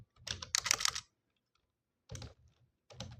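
Keystrokes on a computer keyboard, typed close by in two or three quick bursts separated by short pauses, with no talking.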